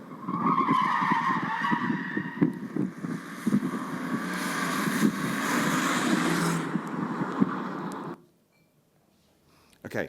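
A rear-wheel drive automatic car performs a J-turn, its tyres skidding and scrubbing loudly for about eight seconds with engine noise underneath, then cutting off into near silence.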